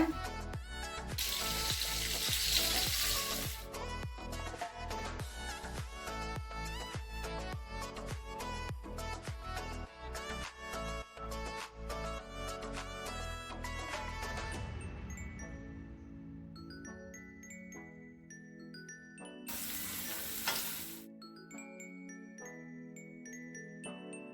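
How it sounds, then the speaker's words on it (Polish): Pork cheeks frying in a pan give off bursts of hissing sizzle near the start and again later, mixed with tinkling, tonal background sounds throughout. "jak mi się policzki smażą"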